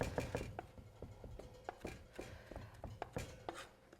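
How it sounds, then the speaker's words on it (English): A kitchen knife scrapes and taps garlic into paste on a cutting board, its back run down the cloves; a close, steady series of sharp clicks and soft scrapes while preparing tofu-stuffed peppers. "just take the back of your knife and run it down, and look, you have paste"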